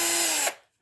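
A 14-volt cordless drill spins in reverse, a loud high-pitched motor whine that holds steady briefly, then winds down and stops, followed by a tiny click.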